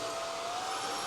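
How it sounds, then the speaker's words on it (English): A vacuum cleaner runs on a living room floor, a steady close whine with a thin high tone over a broad airy roar, brief and unbroken. "I'm a dad and I'm using my new vacuum"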